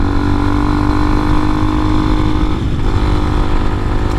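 An Amazon 250cc five-speed enduro motorcycle engine runs steadily at the top of a hill. The loud, continuous rumble stays close throughout with no talk.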